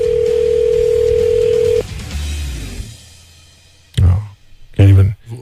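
An outgoing phone call plays a steady ringback tone for about two seconds before cutting off, followed by quiet line noise and short bursts of loud speech.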